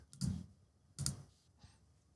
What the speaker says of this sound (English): I take a look by clicking on the eye